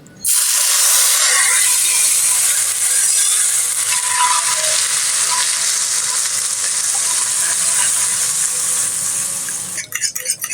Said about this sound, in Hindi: इसको आला और बहुत ही बेहतरीन बनाने के लिए गरम गरम ऑयल, ताकि ये तमाम चीज़ें इस तरह पक जाएंगी